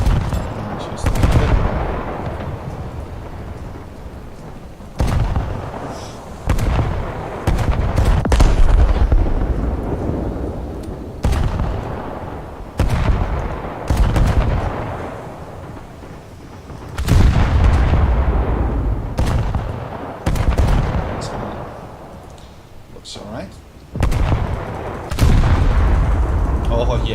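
Battleship main guns in the video game War Thunder fire repeatedly in heavy booming salvos, each blast decaying into a rumbling tail, spaced a few seconds apart through a long stretch of combat.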